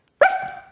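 A person imitates a dog's bark with a single short, loud, close yelp-like woof that tails off, standing alone with no other sound.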